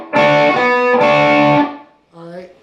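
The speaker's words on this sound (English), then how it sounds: "Now we're going to hit it again and bend and release." Electric guitar notes struck twice on the 10th fret, each bent up and released with sustained harmonic ringing, distorted tone, followed by a quieter short tail.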